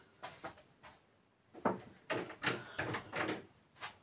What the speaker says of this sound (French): je reviens, je ferme la porte